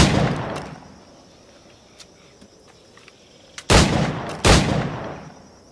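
Two loud, close firearm shots a fraction of a second apart in Assassin's Creed IV: Black Flag, breaking out of a quieter, low game ambience.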